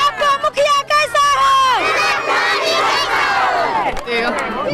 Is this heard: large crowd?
yes